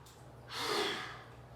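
A single strong, close exhale during a Pilates mat exercise, a breathy whoosh swelling and fading over about a second, with faint room hum before and after and no speech.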